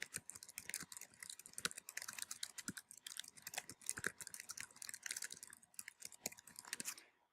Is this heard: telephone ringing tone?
no